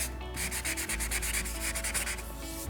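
Steady hand sanding with sandpaper under light pressure, stripping old paint from a piece of furniture, a continuous raspy scrubbing in quick regular back-and-forth strokes, close and uninterrupted.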